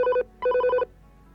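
A telephone bell rings in two clear bursts with a short gap between them, loud and close in a quiet home, followed by near silence.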